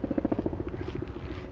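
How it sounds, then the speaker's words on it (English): Helicopter flying over Central Park in New York, its rotor thumping in a fast steady pulse that is strongest at first and eases slightly as it passes, fairly close and loud. "The sounds of helicopters are very, very common here in New York."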